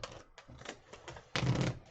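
Board game cards are shuffled in bursts of soft riffling and clacking, a few short rounds followed by a louder final shuffle, close by at a tabletop game session.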